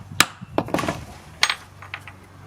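A hardened steel roll pin with a sharpened edge is struck to punch a hole in rubber for a washer. Several sharp metallic taps and clinks come in a quick, uneven series, fairly close and moderately loud.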